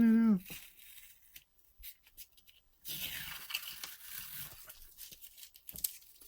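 Scotch Magic tape tearing free and being pulled, a few short ripping scrapes at close range, while a voice talks in French.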